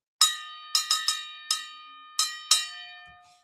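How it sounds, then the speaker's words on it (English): A bell is struck six times in an uneven rhythm, each clear metallic strike ringing on with sustained tones before the next; close, loud and alone, with no talking. "I want to ring this gong ring this bell a couple more times."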